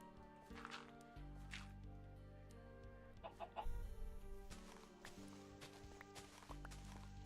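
A chicken clucks a few times in a video game village, set against steady game background music with footstep-like sounds.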